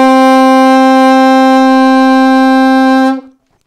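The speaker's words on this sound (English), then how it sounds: "A on your alto saxophone" A single sustained alto saxophone note A, steady and full, held for about three seconds before stopping cleanly.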